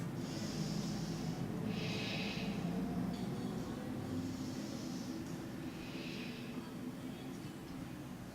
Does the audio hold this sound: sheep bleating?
no